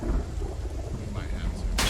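A rolling thunderstorm in the video game Project Zomboid, with low rumbling thunder over continuous rain, steady and moderately loud, followed by a sudden bright burst right at the end.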